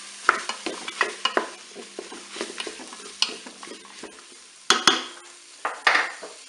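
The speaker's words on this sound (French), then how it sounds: "Je vais maintenant ajouter les carottes." Carrots are added to a Cookeo pot and stirred, with a utensil scraping and clinking against the metal in irregular bursts over a faint low sizzle, close and fairly loud.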